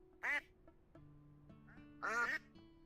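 Two loud cartoonish duck quacks from a farming video game, the second a longer double quack, separated by a quiet stretch with a soft background music drone.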